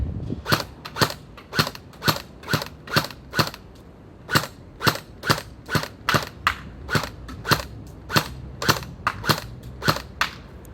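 Sharp, regular snaps from a WELL M401 gel ball toy blaster firing, roughly twenty evenly spaced shots in quick succession, close and fairly loud with no talking.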